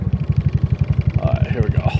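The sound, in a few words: GY6 scooter engine revving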